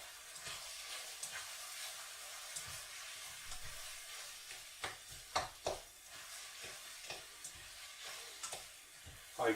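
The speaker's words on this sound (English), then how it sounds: "notice I'm frying these in an ordinary kettle" Sliced mushrooms fry in oil in an ordinary kettle, giving a faint, steady sizzling hiss broken by scattered soft crackles and pops, heard close and alone.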